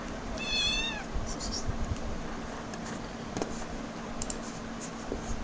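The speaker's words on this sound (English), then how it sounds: "my cat just woke up" A pet cat, just woken and grumpy, lets out a single clear meow early on, close by in a quiet room, followed by soft keyboard typing and light tapping.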